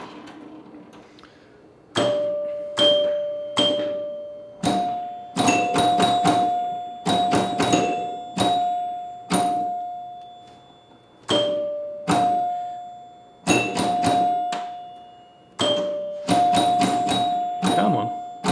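A vintage Williams Grand Prix electromechanical pinball machine sounds its chimes again and again, loud and close, each ring decaying slowly, with a steady rhythm of strikes through the clip and a voice talking at times.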